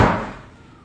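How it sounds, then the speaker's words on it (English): A single hard door slam from children somewhere in the house, a sharp loud impact that decays quickly into a fading rumble, with no talking. "Oh, we've got children slamming doors."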